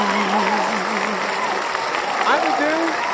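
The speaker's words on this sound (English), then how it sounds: "We had an applause and everything in front of a live studio audience." Steady crowd applause from a live studio audience fills the short stretch, a dense even wash of clapping with a voice speaking over it.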